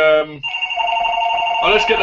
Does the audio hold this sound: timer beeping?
no